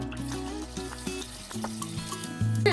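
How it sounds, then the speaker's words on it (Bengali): Pangas fish fries in hot white oil in a frying pan, giving a continuous close sizzle broken by faint clinks and stirring, with no talk. "তেলটা গরম হয়ে গেছে, এখন আমি মাছটা দিয়ে দেব।"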